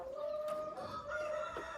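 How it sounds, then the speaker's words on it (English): Layer hens clucking in a small backyard farm, a soft, steady stream of low calls with a few sharper clucks, heard faintly at a short distance. "What type of chicken are these? So these are layers."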